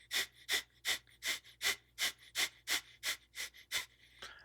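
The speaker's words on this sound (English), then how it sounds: "Do quick, forceful exhales out your nose called breath of fire." Breath of fire: a rhythmic run of about twelve quick, forceful exhales through the nose, evenly paced at roughly three per second, close and clear with no talking.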